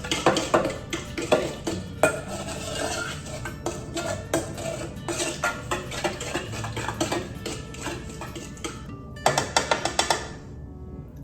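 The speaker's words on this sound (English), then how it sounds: "you're gonna add in your tablespoon of cooking oil. And you're gonna wanna mix that in a little bit too." Cooking oil being stirred into aromatherapy dough in a bowl, with steady clinking and scraping of a utensil against the dish, rapid repeated taps throughout, fairly close, then a brief pause and a few sharper knocks near the end.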